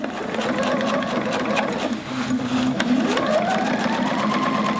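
Sewing machine stitching up along a continuous bias sleeve binding, a steady close mechanical whir running throughout with slight shifts in pitch, a faint voice underneath.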